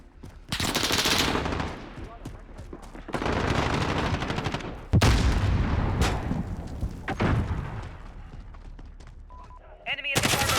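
Video game gunfire rattles in loud automatic bursts with single heavy shots and booms, intense and close, some stretches sparser, and a voice talks briefly in between.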